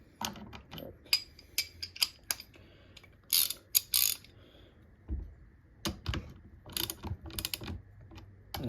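Nuts on a chainsaw bar being snugged up with a tool: irregular close-up metallic clicks, ratcheting ticks and small rattles in uneven bursts, some sharp and bright.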